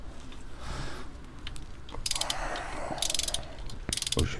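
Ratchet wrench clicking while tightening a glow plug on a Dacia, with bursts of rapid close ratcheting clicks in three separate strokes, loud and alone.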